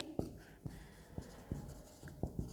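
A pen writes on paper while accounting figures are noted down, giving soft scratchy strokes and small taps at irregular intervals. The sound is quiet and close in an otherwise calm room.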